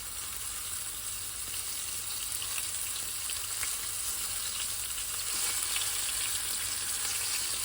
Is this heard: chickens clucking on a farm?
no